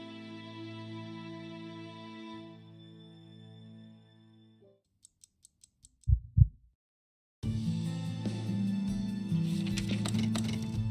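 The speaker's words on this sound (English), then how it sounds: "about the abnormal heartbeat here" Abnormal heartbeat sound effect in a video game, two heavy low thumps following a series of faint ticks, set between stretches of game music.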